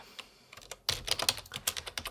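Quick clicking keystrokes on a computer keyboard, first a few scattered taps, then a dense, close burst of typing that runs for more than a second.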